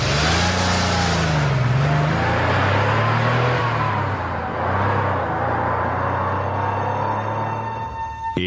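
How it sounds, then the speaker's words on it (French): The assassin Domingo Mba's car pulls away, its engine revving loud and close with rising and falling pitch through gear changes, continuous for several seconds before easing off as it recedes. "Et la voiture de Domingo Mba, l'assassin, s'éloigne."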